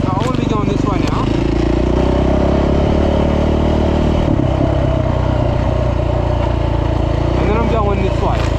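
A KTM 450 EXC custom adventure motorcycle on a sandy trail, its engine droning loud and steady close to the microphone with a few brief revs and some rattling throughout.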